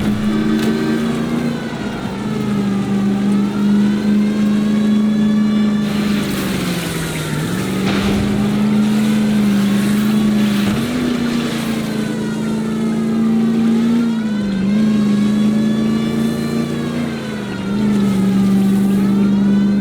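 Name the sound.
car engine revving during a car chase in video game L.A. Noire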